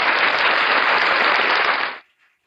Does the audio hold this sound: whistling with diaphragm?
no